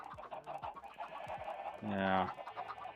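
Chickens cluck on a broken chicken farm in the Crimson Kingdom video game, a steady run of short clucks with one louder, longer squawk near the end, at modest volume.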